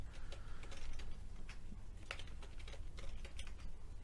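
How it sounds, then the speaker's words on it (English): Rapid typing on a computer keyboard, with a steady stream of close, light key clicks over a low background hum and no talking. "As you can tell, I'm typing in something really complex there"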